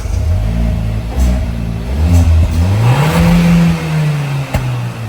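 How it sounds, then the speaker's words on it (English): A Hyundai car engine cranks and catches close by, then its revs climb smoothly and settle into a steady idle hum. "Okay, let's actually turn on the car."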